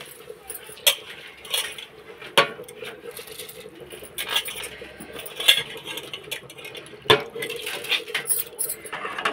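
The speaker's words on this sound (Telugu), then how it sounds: "బాస్మతి రైస్ ఇప్పుడు దాంట్లో వేసుకోవాలి." Soaked basmati rice poured into a biryani cooking pot, giving scattered clinks, rattles and soft patter of grains against metal, close by and moderately loud, with no voices.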